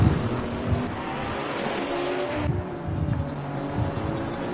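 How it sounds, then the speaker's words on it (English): A GT4 race car in Assetto Corsa Competizione does a tyre burnout at Laguna Seca, a steady, rough engine roar and tyre hiss held at one pitch with slight swells, close and continuous. "There it is. Signature burnout."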